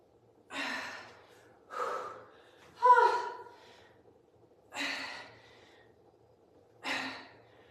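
Heavy, effortful breathing during a live HIIT workout, five separate loud gasping exhales spaced a second or two apart, close and otherwise quiet.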